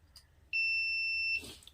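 Continuity-test buzzer sounding across e-rickshaw gear motor wire leads: one steady, loud electronic beep lasting under a second, starting abruptly and cutting off, with faint handling clicks around it.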